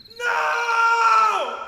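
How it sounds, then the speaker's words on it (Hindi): A single sustained scream, close and loud, at the sight of a masked man in a mirror; the voice holds a piercing tone for over a second and then slides downward as it ends. "उसकी चीख निकल गई"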